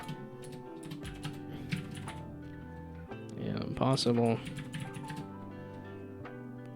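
Clicky computer keyboard typing in bursts under a gaming streamer's talk, with game music and effects playing alongside.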